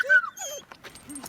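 A dog reacting as another dog walks past, giving short high whimpers and yips with whiny rising and falling tones, close and fairly loud, in a brief agitated burst.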